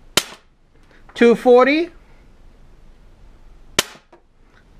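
A low-power gun of about 2.5 to 3 joules is fired over a chronograph: two sharp close cracks a few seconds apart, with a person speaking briefly between them.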